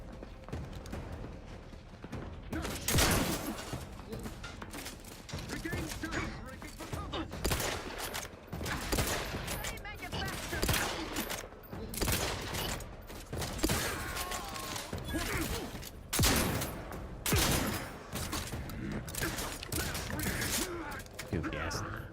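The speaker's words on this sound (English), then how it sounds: "Goofy ass 3-barrel shotgun." In the video game The Outer Worlds 2, a three-barrel shotgun fires repeatedly in loud, closely spaced blasts amid chaotic combat, with voices talking in between.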